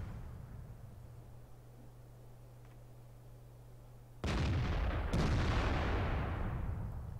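In the video game World of Tanks, after a quiet low drone, a heavy tank cannon blast booms, followed a second later by another, each leaving a long rumbling tail.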